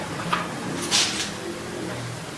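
Old wooden door or wardrobe in the kitchen of an abandoned mansion creaking and knocking as it is opened, a few short scrapes and bumps, fairly quiet against a still room.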